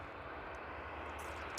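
A Jet2 airliner arriving from Lanzarote, approaching north of the airfield, gives a steady, distant broadband engine roar that holds at a constant low level throughout, with no talk over it.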